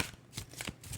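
A deck of tarot cards is shuffled in a quick, quiet riffle of three or four soft papery bursts, close and brief.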